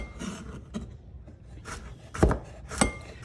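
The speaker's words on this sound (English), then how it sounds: "in a rocking motion with the clawed guiding hand, I'm just gonna chop" A knife chops on a cutting board with a rocking motion, the tip staying on the board, making a few soft, irregular taps and two sharper, louder knocks near the end, close by and with no voices.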